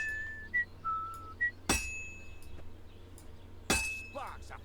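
A sword blade is hammered at a blacksmith's forge in Kingdom Come Deliverance 2: two sharp, ringing metallic strikes spaced about two seconds apart. A few short whistled notes come before the first strike, and faint background noise runs throughout.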